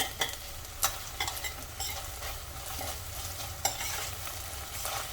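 Garlic ginger paste frying in a pan while being stirred, steady loud sizzling broken by several sharp scrapes and clinks of a spoon against the metal.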